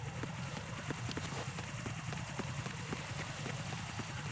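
A drone in the video game Metal Gear Solid 2 hovers with a rapid, rhythmic rotor chop, steady and moderately quiet throughout, with no talk over it.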